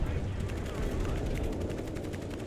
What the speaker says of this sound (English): Ooh, that was a perfect shot from them.